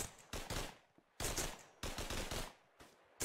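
Gunfire in the World War II shooter Hell Let Loose: sharp bursts of rifle and automatic fire in clustered volleys separated by short gaps, some shots loud and near, others trailing off, with no talk over them.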